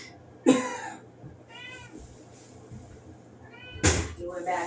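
A house cat meows a few times, one sharp cry near the start and another later, close and fairly loud, with people talking softly around it.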